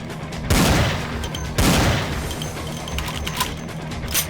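Gunfire in the Vampire the Masquerade: The Final Nights video game, with two loud close bursts of rapid shots about a second apart and a scatter of fainter clicks and impacts afterward.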